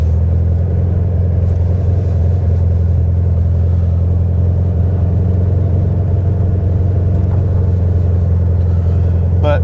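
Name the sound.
1967 Volkswagen Beetle driving on a test drive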